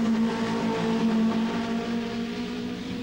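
Several 2.3-litre BMW M3 race cars running close together on track, their engines holding a loud, steady, sustained drone with a slight fade near the end.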